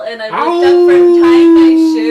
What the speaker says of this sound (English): I heard those wolves howl